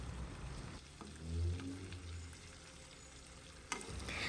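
Prawns frying in a pan for a Kerala-style chemmeen fry, a steady low sizzle with soft crackle throughout and a brief clatter near the end as they are turned.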